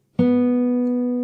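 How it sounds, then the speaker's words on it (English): A single open G string plucked on a guitar, one clean close note that rings out steadily without fading much. "After that you play the open G string"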